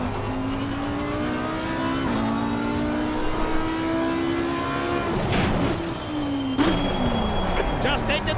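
GT3 race car in Assetto Corsa Competizione at Imola, a steady droning engine tone holding near one pitch as the car rolls through the pit lane, with a voice talking over it and a shift in tone near the end.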